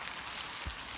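Rain falls in a steady, faint, even hiss with no voices, only a couple of slightly brighter drop sounds breaking the wash of noise.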